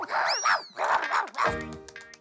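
Chusaka, a cartoon dog, lets out a run of sharp, excited barks and yips in quick bursts, ending in a brief musical flourish, loud and close.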